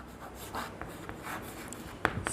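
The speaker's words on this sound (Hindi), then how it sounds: "मैं लिख देता हूं 4 रूल" Marker or chalk scratching out short strokes on a board during a chemistry lesson on aromaticity, a series of soft, brief scrapes with small pauses between them, close by and fairly quiet, with no voice over it.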